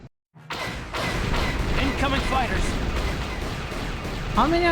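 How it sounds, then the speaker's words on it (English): Turret guns blast away at Sith fighters during a space battle in Knights of the Old Republic, a dense, continuous roar of gunfire and laser bolts with rising whistles, preceded by a brief silent gap. "Someone needs to get on those gun turrets. Take those fighters out before they report our position to the main fleet."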